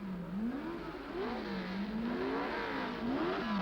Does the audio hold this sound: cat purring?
no